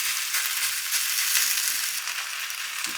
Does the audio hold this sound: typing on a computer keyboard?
no